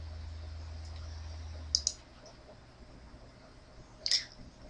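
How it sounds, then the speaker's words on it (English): A computer mouse clicks through Windows Server 2008 setup screens, two short crisp clicks a few seconds apart over faint steady hum. "We'll just go ahead and click through to the next screen."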